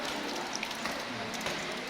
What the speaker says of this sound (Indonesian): Kebetulan juga hujan ini.